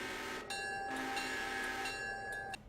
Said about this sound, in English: Anyways, there the train goes.